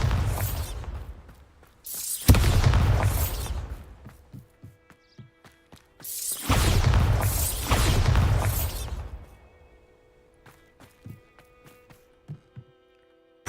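A Bombarda spell explodes in the video game Hogwarts Legacy, two loud booming blasts several seconds apart, each collapsing into crumbling debris and scattered clatter, with lighter taps and clicks in between.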